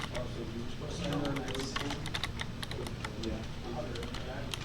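Rapid clicking keystrokes on a computer keyboard during a programming lesson, irregular taps in quick bursts, close and clear, with a voice speaking quietly underneath.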